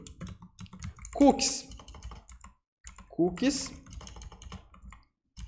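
Quick clattering keystrokes on a computer keyboard, close and busy, coming in rapid runs, while someone speaks over the typing.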